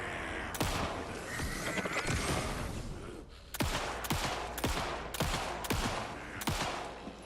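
Gunfire in the video game Alan Wake II: a burst of rapid shots followed by several sharp, loud single gunshots spaced about half a second apart, each with a short ringing decay.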